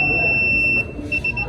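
Student-built security alert system alarm sounding a steady high electronic beep tone that holds, briefly drops, then pulses in short repeated bursts, fairly loud over a low background hum.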